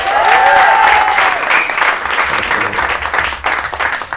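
Audience at a Paris stand-up comedy show clapping and cheering for a performer, a dense, loud burst of applause that swells and then thins out over a few seconds.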